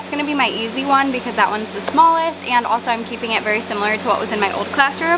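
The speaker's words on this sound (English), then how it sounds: "Okay, sorry about the fan." A room fan blows a steady, broad airy whoosh throughout, sitting under continuous close speech from a woman setting up a hot classroom.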